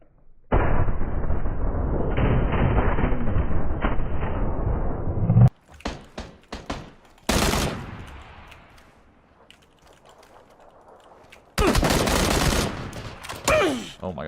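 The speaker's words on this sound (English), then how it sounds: "Oh my god, I just got shot in my back." Gunfire in PUBG: dense sustained bursts of shots, then scattered cracks and a later heavy volley, loud and close with brief gaps between.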